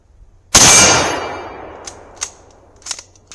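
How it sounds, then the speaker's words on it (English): A Mauser 98K bolt-action rifle in 7.92mm fired outdoors at steel plates 50 to 100 yards out: one loud, sharp close report with a long decaying echo, followed by faint distant metallic pings from the targets. "5 shots."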